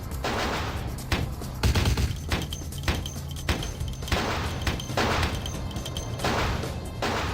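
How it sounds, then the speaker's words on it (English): Machine gun fire in the video game Vampire: The Masquerade - Bloodlines, loud repeated bursts of automatic shots with heavy thuds and crashes between them, dense and close throughout, with no talking. "There is somebody with a machine gun."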